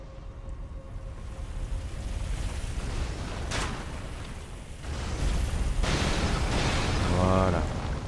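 A heavy pot tumbling down after a crossbow bolt severs its rope in Elden Ring, with booming, rumbling crashes that swell over a dense, continuous game soundscape.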